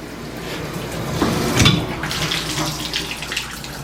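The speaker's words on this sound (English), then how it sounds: "some hot water going here. Pressure test time." Hot water running from a hotel room shower at the Super 8 in Sioux Falls, South Dakota, a steady close rushing spray that swells in the middle, heard alone without talking.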